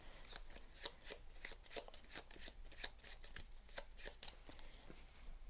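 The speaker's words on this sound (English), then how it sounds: "So we're going to shuffle number 1s first and then put number 2 event on the bottom." Game cards for the board game Through the Ages being shuffled by hand, a close, steady run of rapid riffling flutters repeating for several seconds at a soft level.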